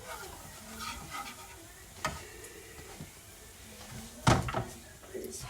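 Gumbo ingredients cook in a pot with a faint steady sizzle, broken by occasional clacks and scrapes of stirring and utensils, heard close with no talk.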